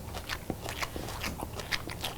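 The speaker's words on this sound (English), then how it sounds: "this is so much more flavorful than normal coleslaw, and yet it still has that crunch" Crisp, close crunching from someone biting into and chewing BBQ coleslaw, a quick series of crackly bites in a fairly quiet setting.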